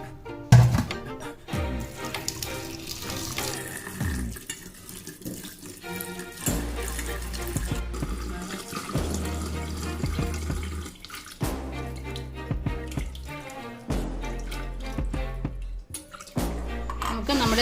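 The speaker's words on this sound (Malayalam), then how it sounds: "നമുക്കിനി ഇതൊന്ന് നന്നായിട്ട് കഴുകി എടുക്കാം." Running tap water splashes over fresh oregano (panikoorkka) leaves being rinsed in a sink in a home kitchen, a steady stream with shifting splashes and gurgles as the leaves are moved under it.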